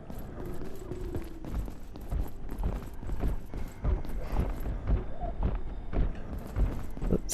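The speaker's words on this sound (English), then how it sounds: "The stomping we're hearing must be upstairs." Heavy stomping from an upstairs floor in the video game Abiotic Factor, repeated dull thuds under a dense, steady game backdrop of hum and clatter.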